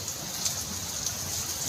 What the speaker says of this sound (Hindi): बाहर को भी देखो केते जोर से वर्षा होची